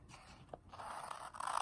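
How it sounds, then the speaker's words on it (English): Scissors snip through folded paper to cut off a rectangle for a paper snowflake, a faint close-up crunch and scrape that builds to a slightly louder cutting rasp at the end, no talking. "So this is where you can take your scissors,"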